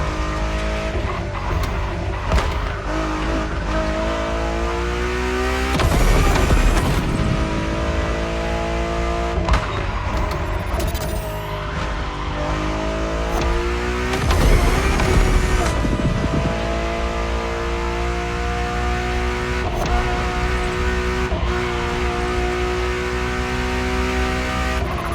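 Ferrari road-legal Formula One-style supercar with a Pininfarina design, engine revving hard and rising through the gears as it drives, loud and close, with repeated sharp up-shifts and brief tire squeals, no talking.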